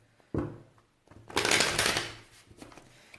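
Tarot cards are shuffled and cut by hand, opening with a sharp slap of the deck and followed by a longer, dense riffling flurry, then a few softer taps as the cards settle.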